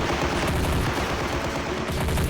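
Sustained, dense machine gun fire from the Army Men of War Legends video game, loud and continuous, with overlapping rapid bursts and no pauses or talk.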